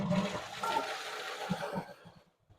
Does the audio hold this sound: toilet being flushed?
yes